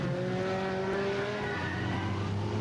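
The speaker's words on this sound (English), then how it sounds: "That yellow car chasing that other yellow car" Stock race cars roaring around Riverside Speedway in Agawam, Massachusetts, engines droning loudly and continuously with shifting pitches as several cars chase each other, a dense steady wall of motor noise.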